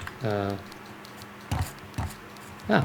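Sparse typewriter key clicks in the video game Finding Nela, a few separate taps spaced apart, with a voice talking briefly near the start.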